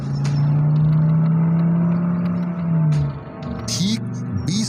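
A car engine hums steadily and then pulls away as the car drives off, loud and close with a slight rise in pitch before it fades, followed by a couple of short chirps and clicks.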